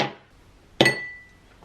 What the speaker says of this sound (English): I'm obviously going to be using these ice cubes.